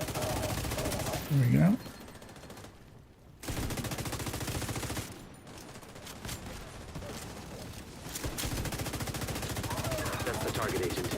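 Rapid bursts of automatic gunfire from a video game rattle on and off through the stretch, fairly loud and dense, with a voice briefly speaking over the shooting.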